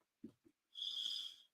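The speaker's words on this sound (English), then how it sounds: "Mr. Romantic is in full snore" A man snoring, one drawn-out rasping breath after a couple of soft snorts, close and fairly faint.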